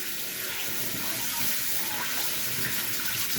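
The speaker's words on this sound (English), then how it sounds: "wash the old hands" Hands being washed under a running kitchen tap, a steady close hiss of flowing water with slight splashing variations throughout, no voices.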